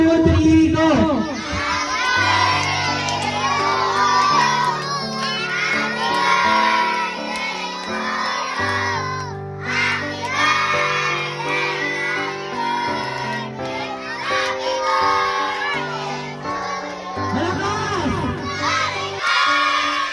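A group of children sing happy birthday together at a family birthday party, loud and continuous, with shouted, ragged voices and a crowd-like cheer running under the tune.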